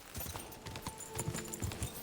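A horse in Kingdom Come: Deliverance II clip-clops along steadily off a proper road. The hoofbeats are close and rhythmic over an ambient game background, with a few heavier thuds.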